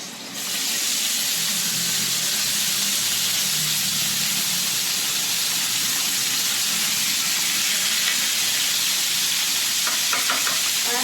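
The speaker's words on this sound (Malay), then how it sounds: "I'm going to cook my minced beef" Minced beef sizzling steadily in a hot pan, a continuous bright frying hiss with occasional light stirring scrapes near the end, close and loud with no talking.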